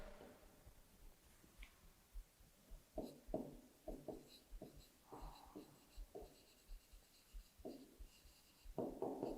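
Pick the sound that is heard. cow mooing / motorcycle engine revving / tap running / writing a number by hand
writing a number by hand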